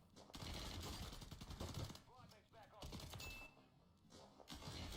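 Rapid gunfire in a competitive shooter game, loud, close bursts of shots rattling over a steady game soundscape, with a short quieter gap before the firing resumes.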